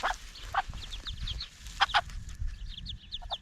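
Chickens in a newly built chicken run on a South American farm, with ducklings nearby, cluck in short, repeated bursts close by, over a steady low rumble of background noise.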